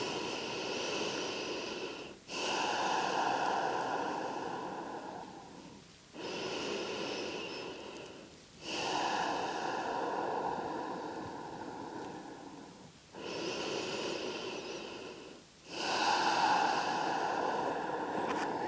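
Slow, deep breaths during a yin yoga hip stretch, heard close and loud as long drawn-out inhales and exhales. Four steady cycles are separated by short pauses, with no talking.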